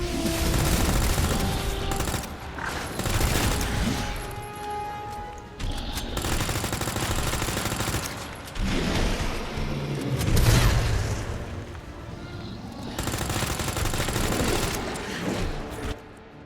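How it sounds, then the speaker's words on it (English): A machine gun fires in Resident Evil 2 Remake in long rapid bursts with heavy booms and impacts, loud and close, separated by brief pauses over about sixteen seconds. "Alright, out of machine gun ammo."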